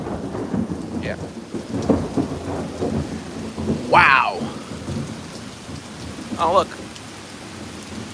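A thunderstorm in New York City: steady rain hisses throughout while low thunder rumbles roll nearby, and people briefly exclaim.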